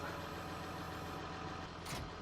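An old John Deere tractor engine idles in Farming Simulator 19, a steady low mechanical drone with a brief brighter burst near the end and no voices.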